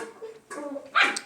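Dogs barking nearby indoors, a few short yips and barks mixed with whimpering, ending in a louder sharp bark.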